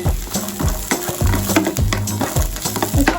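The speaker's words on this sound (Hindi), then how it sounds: "ये देखिए मिर्ची भून रही है और अब इसी में हम डाल देंगे ये जो ये लहसुन था" Chillies and garlic frying in mustard oil with cumin in a pan, a dense crackling sizzle with scraping, clattering stirring strokes close by.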